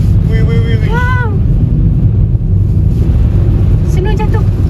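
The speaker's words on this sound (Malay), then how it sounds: "Terasa angin kuat ni" Strong wind roars steadily across a ski slope at Erciyes, loud and continuous. A voice exclaims over it briefly at the start and again near the end.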